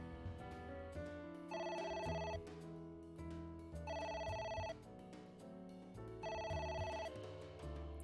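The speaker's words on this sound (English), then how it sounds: "I'm gonna keep ignoring the phone." A telephone rings in the detective video game AI: The Somnium Files, sounding as three repeated bursts of bright electronic ringing at an even pace over a soft, steady background of game music.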